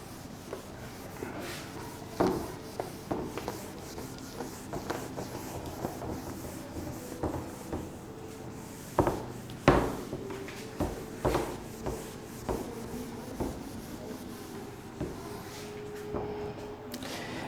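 A duster rubs out writing on a classroom board in scattered soft scrubbing strokes and light knocks. The sound is quiet and irregular, with no talk.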